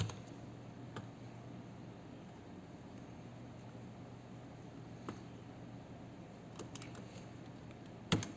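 Scattered keyboard clicks, a few isolated taps at intervals and a sharper pair of strikes at the end, faint over a steady low hum in a quiet room.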